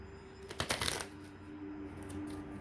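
Tarot cards are shuffled in a quick riffling burst near the start, a crisp flurry of papery flicks that trails off into quiet room tone with faint later rustles.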